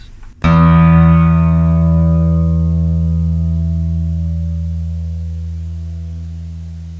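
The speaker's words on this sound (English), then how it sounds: "So this is the low E string." A single low guitar string plucked once, ringing out deep and full with rich overtones and slowly fading over several seconds.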